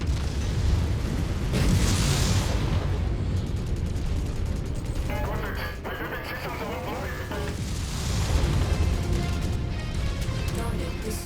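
Explosions in the mech combat game MechWarrior 5 come as heavy, rumbling booms and crackling blasts that swell, fade and return with metallic debris and mechanical clatter, loud and continuous.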